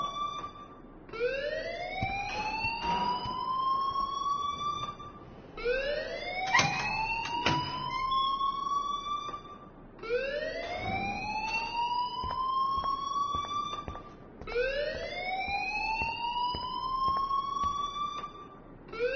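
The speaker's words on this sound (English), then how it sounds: "please turn off that alarm since that's your job" An electronic alarm wails in repeated rising sweeps, each lasting about four seconds, loud and steady, with no voices.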